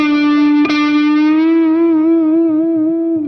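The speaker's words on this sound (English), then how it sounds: "bending up a full tone. Sounds like this." Electric guitar with effects plays one full-tone string bend on the D note at the 3rd string's 7th fret, plucked once and rising in pitch, then ringing steadily with slight vibrato for about three seconds, close and loud.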